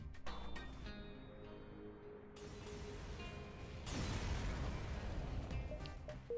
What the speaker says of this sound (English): the artillery will finish him off